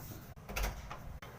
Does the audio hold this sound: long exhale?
no